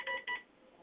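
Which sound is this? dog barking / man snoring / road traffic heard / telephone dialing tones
telephone dialing tones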